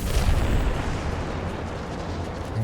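A Concussive Shot ability strikes its target in the video game Mass Effect 2, landing as a loud, heavy boom that trails into a dense, sustained rumble.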